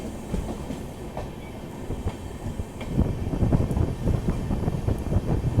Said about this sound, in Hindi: ये तो खाली रेक्स लग रहे हैं मुझे किसी ट्रेन के